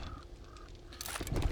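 Vultures from a large horde in a zombie survival game call with harsh crow-like caws, a few faint cries rising early, then a louder, denser burst of cawing near the end.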